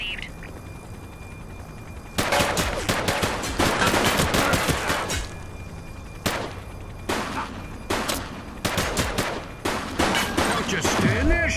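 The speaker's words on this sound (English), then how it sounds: "Shots fired!" Gunfire in The Precinct, a police game: bursts of rapid automatic shots and single cracks, some loud and close, rattling in clusters over about ten seconds of firefight.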